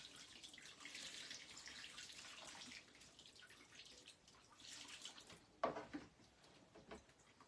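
Tap water runs steadily from a faucet over marbled paper being rinsed at a sink, with a brief sharper splash or clatter near the end; no one speaks.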